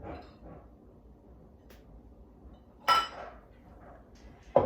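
Autumn kale salad with pepitas, currants, Parmesan, garlic and lemon being tossed in a bowl: soft, quiet rustling of leaves, then a couple of sharper clinks of utensils against the bowl, no talking.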